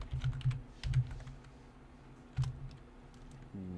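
A few short clusters of clacking keystrokes on a computer keyboard, close and fairly quiet, separated by pauses, with a low hum at the end.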